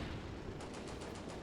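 Rapid machine gun fire from a T-37 tank in the Combat Mission: Barbarossa to Berlin war game, a dense continuous burst of shots with no voices.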